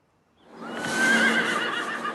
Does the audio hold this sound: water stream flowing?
no